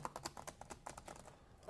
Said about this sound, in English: I just want to start typing.